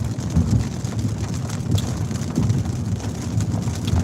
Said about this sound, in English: it's raining out here